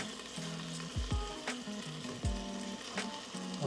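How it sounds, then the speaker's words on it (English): Beef sausage frying in a pan gives a steady close sizzle, with a few stirring or scraping knocks over the crackle. "Y'all hear that sausage?"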